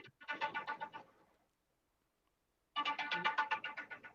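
A phone rings in two electronic trilling bursts separated by a silent pause, clear and moderately close, with no talk over it.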